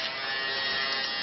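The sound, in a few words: battery-powered electric razor running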